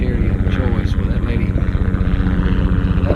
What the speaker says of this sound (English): I got a helicopter going over right now, of course